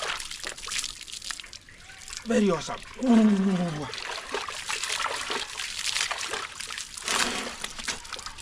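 Shower water trickles and splashes steadily throughout, fairly close, with talk running over it nearly the whole time.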